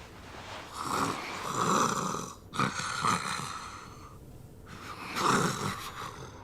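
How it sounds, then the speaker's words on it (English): Several people snoring in a shared sleeping room in the video game Yakuza 5, with long, rough, breathy snores rising and falling in overlapping waves, loud and close, broken by brief pauses between breaths. "Can you imagine having to sleep with all these snoring people?"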